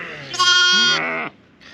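Sheep and lambs on a farm at lambing time, a single loud close bleat with a wavering, quavering tone, followed by a fainter short bleat.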